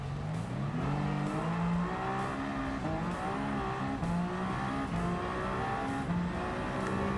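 A Toyota in Gran Turismo 7 accelerates hard through the gears, the engine note climbing and dropping repeatedly with shift breaks over a steady racing drone, loud and continuous with no talk.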